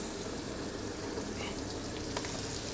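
Duck breast searing in a little butter in a pan over medium-high heat, giving a steady, dense sizzle and crackle close by throughout, with a few faint sharper pops near the end and no talking.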